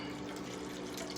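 Chicken stock pours steadily into a tin can of pasta sauce to rinse it out, a continuous close splashing trickle of liquid with no talk.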